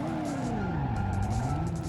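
A car in the Driver video game revs up, a loud engine tone sweeping down then rising again as it accelerates, steady and close for two seconds with no talk.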